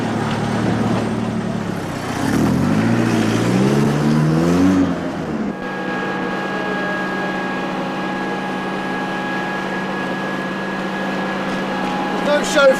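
A car driving up, its engine rising in pitch as it accelerates for a few seconds, then dropping into a steady, even hum as it settles, heard fairly close.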